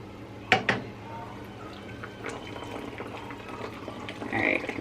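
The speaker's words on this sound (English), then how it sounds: "gonna attempt to pour this cold brew I made into this Care Bear cup using just a regular coffee filter" Cold brew coffee poured through a regular paper coffee filter into a Care Bear cup; a couple of sharp clinks open, then a soft continuous trickling and dripping of liquid follows, rising slightly toward the end.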